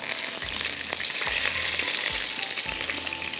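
Garlic sizzles in hot oil in a kitchen pan, a steady, dense frying hiss that runs unbroken and fairly loud, with a few soft low thumps from stirring and no talking.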